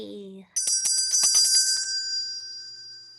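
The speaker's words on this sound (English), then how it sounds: "Daddy, my Christmas bell." A small Christmas bell rings close and bright, with several quick shakes that then fade into a long sustained shimmer. A brief voice comes just before it.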